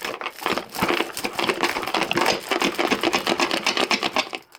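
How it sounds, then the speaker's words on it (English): A Pokemon Elite Trainer Box is shaken hard, giving a loud, fast, continuous rattle of loose cards knocking inside the cardboard for several seconds, close up and without speech. "Does that maybe sound like there's a few loose cards in it?"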